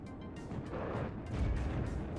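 Tornado F3 anti-air aircraft's main cannon firing in the WARNO strategy game: a dense, continuous rumbling burst of gunfire with low booming energy, steady and fairly loud throughout, no talk.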